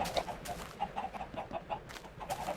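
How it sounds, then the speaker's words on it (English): A giant chicken in Minecraft clucks in a steady run of short, bright, repeated clucks, close and fairly loud, with no talking over it. "And there is the giant chicken"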